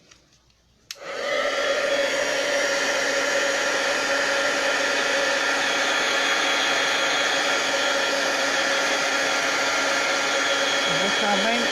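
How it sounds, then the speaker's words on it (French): A heat gun blows steadily and loudly at close range to dry damp cardstock, switching on with a sharp onset after a brief quiet moment and then holding a constant whooshing roar. "Fait que laissez-moi prendre mon pistolet chauffant. Ça va faire un peu de bruit, mais je vais juste finaliser le séchage."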